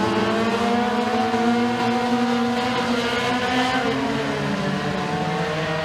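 Race cars in a heat race at Stateline Speedway, several engines roaring loud and continuous at full throttle as the pack runs together, with overlapping pitches that rise and fall through the turns.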